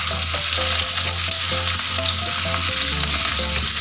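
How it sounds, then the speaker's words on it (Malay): Onions with coarse salt frying loudly in a pan, a dense continuous sizzle and crackle filling the space, with rhythmic stirring knocks underneath throughout. "Do not cook the onions until it's dark golden brown, just slightly golden would do."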